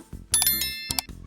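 Notification bell chime, two bright ringing dings in quick succession, close and clear with no talk.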